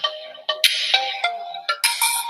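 A mobile phone ringtone plays a bright, repeating melodic pattern of short electronic tones, loud and close, with no voices over it.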